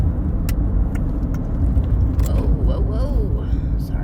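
Road traffic rumbling past nearby, a steady loud low roar of passing cars with a few brief clicks, while a person talks over it.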